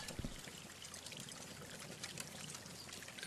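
Molten metal pours into a bar mold in the mining and forging game Hydroneer, a steady liquid trickle that runs continuously and fairly quietly with no voices over it.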